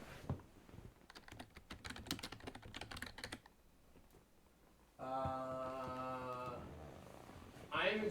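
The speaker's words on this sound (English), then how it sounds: "Can you type Sonic Adventure for me?" Quick clattering keystrokes on a computer keyboard as a game title is typed in, bursts of clicks that stop partway, followed by people talking over the quiet room.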